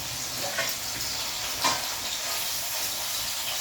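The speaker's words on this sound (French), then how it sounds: "surtout cuire le lard. Bien tourner pour que votre lard soit cuit." Bacon lardons frying in a pan for pork filet mignon, a constant hissing sizzle with a couple of brief stirring scrapes and no talking.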